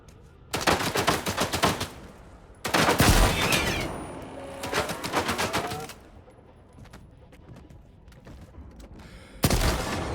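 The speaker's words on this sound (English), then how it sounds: "gauss rifles are just wiping me out" Gauss rifle fire in a video game, heard as loud, dense bursts of rapid gunfire lasting a second or two each. Quieter gaps separate the bursts, and one final burst comes at the end.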